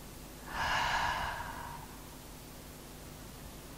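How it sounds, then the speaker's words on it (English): A slow, deep exhale through the mouth during a yin yoga session for lower back pain, a single soft breathy rush lasting about a second and a half, close and gentle, with no talk over it. "take 2 deep breaths here. Exhale through your mouth."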